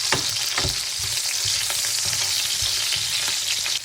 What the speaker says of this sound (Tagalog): gigisahin na natin ang onions, guys